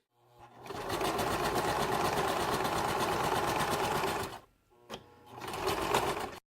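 A sewing machine runs a fast, continuous stitching whir along a seam on stretchy scale mail fabric for about four seconds, stops briefly, then resumes in a shorter burst; close and clear, with no talk.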